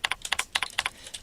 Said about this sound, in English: I'm not typing any uppercases.